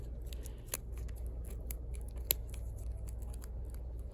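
Scissors snip through yarn held on a pom-pom maker, giving a few sharp, close cutting clicks over a low steady background hum.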